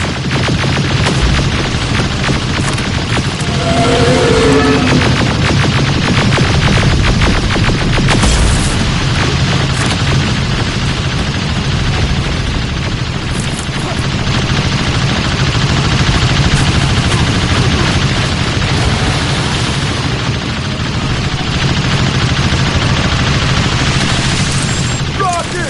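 Dense video game combat in Terminator: Resistance, with rolling explosions and bursts of gunfire filling a loud, continuous battle din, broken by shouted voices over the fighting.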